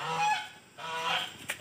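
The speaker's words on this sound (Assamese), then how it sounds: "চাওক ইয়াতে ৰাজহাঁহ আছে, ৰাজহাঁহ আছে" Geese honking in the grounds of a temple, two loud, nasal honks close by, one after the other, with a brief pause between them and no voices over them.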